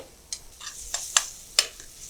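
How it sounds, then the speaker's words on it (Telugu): Tomatoes and onions frying in a pan over raised flame for a North Indian potato capsicum masala, with a low sizzle broken by several sharp stirring scrapes and taps of the spoon against the pan. "ఫ్లేమ్ కాస్త పెంచుదామండి, టమాటాలు ఇంకొంచెం మంచిగా ఫ్రై చేద్దాం."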